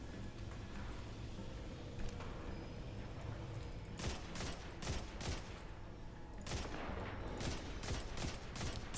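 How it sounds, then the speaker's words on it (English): Gunfire and a fuel barrel exploding in Destiny 2: a rapid burst of sharp shots, a pause, then another cluster of cracks over a constant low background rumble, fairly faint and without speech. "Did that barrel explode like 2 seconds after I shot it?"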